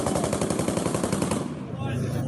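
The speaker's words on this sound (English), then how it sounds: "Ukrainians firing back with rocket-propelled grenades and machine guns." Rapid machine gun fire in street fighting in Kyiv, a loud, close stream of fast, evenly spaced shots that stops abruptly, leaving a rumbling echo.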